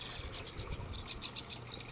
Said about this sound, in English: I'm going to have to stop and zoom in on the birds that are singing.